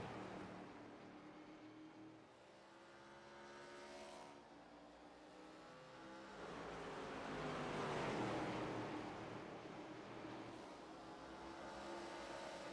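ARCA stock cars racing side by side at Richmond under the lights, engines droning and swelling as cars pass, a continuous roar rising to a peak midway before easing slightly.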